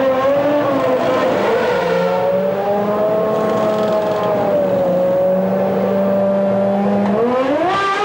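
Formula 1 cars of the 1994 season, driven by Senna and Schumacher, slow into the pits together, their engines a loud steady high-pitched drone with shifting pitch and a rising rev near the end.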